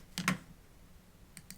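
A computer keyboard key is pressed: a quick pair of close clicks, then, after a pause, two fainter taps, all quiet and isolated.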